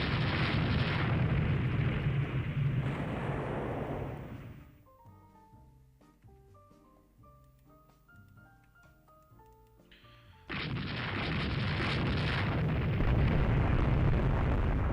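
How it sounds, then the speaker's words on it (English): Cruisers fire auto-loading 8-inch guns in the naval strategy game Rule the Waves 3: loud, dense booming blasts roll continuously, break for a quieter musical stretch, then resume at full force. "My cruisers have auto-loading 8-inch guns"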